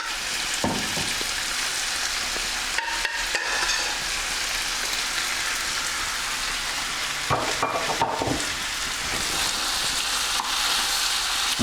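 Mushrooms with thick tomato sauce fry in a pan with a constant dense sizzle, broken by occasional stirring scrapes, close and steady with no talk.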